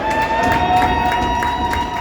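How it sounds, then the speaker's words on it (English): A hockey arena crowd cheers and roars continuously at a Wildcats game, a dense wash of voices filling the space with steady, moderately loud excitement. "Crowd cheering for the penalty kill efforts of the Wildcats"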